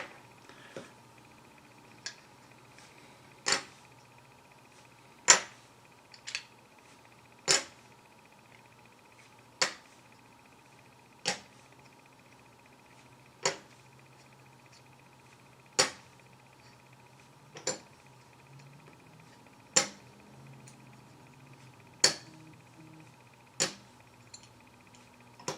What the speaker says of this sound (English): I definitely love the sound of these as they're just dropping onto itself